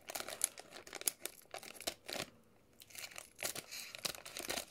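Tough plastic packaging around a Kingdom Hearts All-In-One PS4 game is cut open up close, with a run of sharp crinkles, snips and tearing bursts separated by short pauses.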